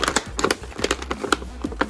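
Packaging of a McFarlane DC Multiverse Batman Who Laughs action figure being torn and crinkled open, a string of quick, sharp close tears and rustles with short pauses between them and no talk.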